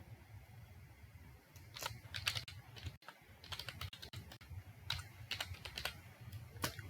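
Computer keyboard typing during an IT practical exam: clusters of quick, close key clicks in uneven bursts with short pauses, fairly quiet overall.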